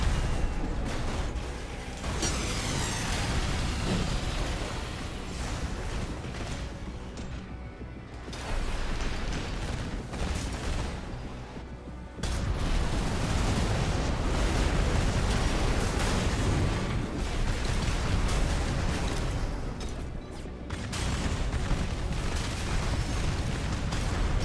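Heavy naval gun fire of roughly 460 mm caliber in a video game, deep booming blasts repeating across the stretch with mechanical clatter between them, loud and dense throughout.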